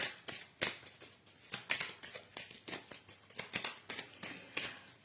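Oracle cards being slipped back into the deck and shuffled, giving a soft, steady run of papery riffles and taps, close and fairly quiet, with no talking.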